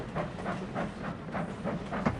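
A food train running in Sid Meier's Railroads!, a soft, steady rumble with faint rhythmic clicks of wheels on rail joints, quiet and continuous throughout.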